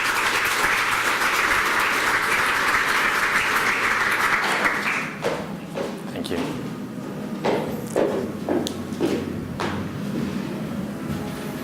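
Audience applause welcoming a speaker to the stage at a creative code technology and art event, dense steady clapping for several seconds that thins into scattered claps, with some voices underneath.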